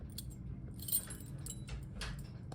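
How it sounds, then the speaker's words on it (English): A bunch of gold keys jangles close by in a few quick, faint metallic clinks and rattles spread over a couple of seconds, with no voices. "Oh my gosh, I have so many gold keys."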